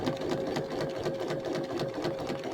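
A sewing machine stitches through a journaling card made from napkin scraps and an altered playing card, a steady rapid mechanical whirring with a tonal motor hum, close and moderately quiet.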